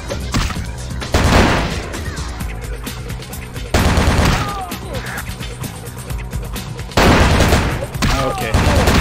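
Dense, continuous gunfire from Vampire The Masquerade Bloodlines: loud rapid volleys roll on without pause and swell in heavier bursts every few seconds.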